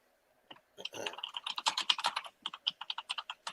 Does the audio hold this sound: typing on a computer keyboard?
yes